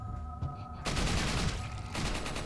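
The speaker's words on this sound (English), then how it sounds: "in this case, a super powered machine gun" A burst of machine gun fire from the Resident Evil 4 video game: rapid, loud, dense shots that start after a quieter lead-in, with a brief lull before the firing picks up again.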